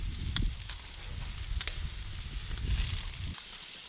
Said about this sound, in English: this is a trick I like to do where I add a little bit of oil when I'm grilling on a propane grill